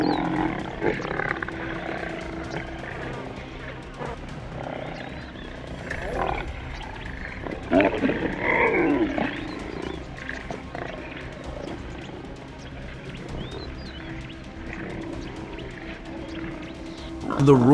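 Lions roaring, low rumbling roars repeating over several seconds, heard beneath a continuous narrating voice.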